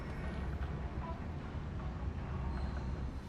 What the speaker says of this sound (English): this here, of course, is a subway station